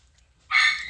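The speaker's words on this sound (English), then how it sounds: "There's a dog out in that other room, that puppy, Pistol, that I'm going to have to go quiet down with a newspaper." A puppy named Pistol barks once, a sharp and fairly loud yelp that starts halfway through after a quiet stretch with no voices.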